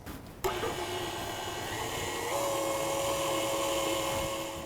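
An electric hand mixer whirs steadily through cake batter, a continuous close motor drone that starts abruptly after a brief pause and holds at an even level, its pitch shifting slightly partway through.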